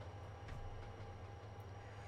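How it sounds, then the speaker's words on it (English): A train in the Trainz Simulator 2 game rumbles past on the Highland Valley Industries route, a low, faint, steady drone with a soft higher hum and no talk. "There's a train above."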